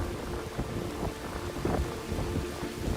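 Torrential monsoon rain pours steadily in Mumbai, a dense hiss with scattered drops and low thunder rumbling underneath, continuous and fairly loud without any voices.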